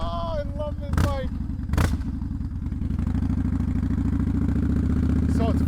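A 2014 Victory Hammer motorcycle V-twin idling with a loud, close, lumpy rhythmic rumble, punctuated by two sharp revs or thumps early on as someone speaks briefly over it.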